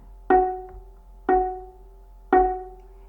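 A violin plays an F sharp on the D string three times, each note sharply plucked and quickly fading, spaced about a second apart in a quiet room.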